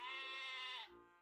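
A goat bleats in the Twisted Wonderland video game, one drawn-out, nasal, wavering cry close up that cuts off sharply and leaves quiet behind.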